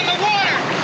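A flooding basement fills with the loud, continuous rush of water spilling from a burst water heater in a 1957 film, heard in a brief steady burst.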